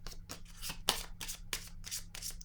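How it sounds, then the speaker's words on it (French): Tarot-style cards are handled and laid down during a card reading, giving a series of quick papery swishes and soft slaps on a table. They come close up in irregular bursts, with no talk over them. "Je vais déposer une carte maintenant sur l'harmonie."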